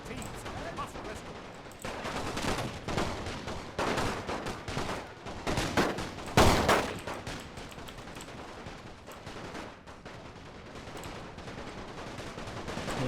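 Total War battle with First World War rifles, machine guns and artillery: dense, continuous volleys of crackling gunfire with heavier booming blasts, peaking in a loud burst midway, busy and layered throughout.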